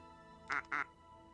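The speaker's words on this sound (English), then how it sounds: "Quack, quack. Attractive duck." A plastic toy duck in the video game Linkito gives two quick, bright quacks in a row against a quiet background hum.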